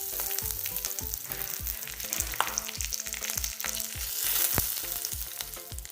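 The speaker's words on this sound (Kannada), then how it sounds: "ಒಗ್ಗರಣೆ ರೆಡಿಯಾಗಿದೆ." A tempering of dried red chillies, asafoetida and curry leaves fries in hot oil for Mangalore cucumber sambar, crackling and sizzling loudly up close in rapid, rhythmic bursts with no talking.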